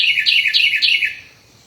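Bright, high bird chirps repeat in a quick series of four or five descending calls close by, then fade to quiet outdoors.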